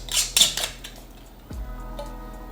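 A lid is screwed by hand onto a glass jar of pickled shrimp, giving a few quick clinks and scraping ticks near the start, then a softer knock, close and clear with no talk.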